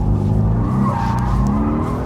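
Drift car sliding and spinning on a partly wet track at Chicago, its engine droning loud and steady with a continuous tire-skid hiss throughout.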